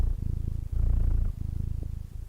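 A cat purrs close up, with loud, rhythmic low rumbling pulses that swell and ease in steady breaths.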